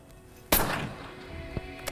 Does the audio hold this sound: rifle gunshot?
yes